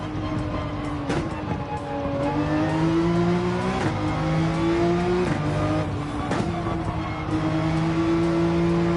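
Car engine in Gran Turismo 7 revving hard and accelerating through several gear shifts, each climb in pitch cut by a brief dip, loud and close throughout with no talking.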